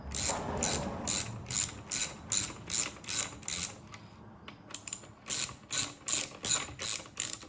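A ratchet wrench tightens bolts on a Predator earth auger, giving rapid, close clicking bursts in a steady back-and-forth rhythm, with a short pause partway through.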